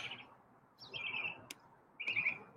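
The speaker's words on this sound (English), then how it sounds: "Chirpy started singing" Pet bird Chirpy singing in two bright chirping bursts separated by a pause, with a sharp click between them, fairly close over a quiet room.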